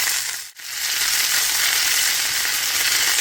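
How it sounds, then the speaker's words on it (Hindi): Mustard seeds, green chilies and fresh mint leaves sautéing in a pan for a coconut chutney, giving a loud, steady hiss of frying, briefly dipping near the start, then sizzling on evenly with no voices. "ये मस्टर्ड की, ये सीड्स की और मिर्च की जो हम सौते कर रहे हैं"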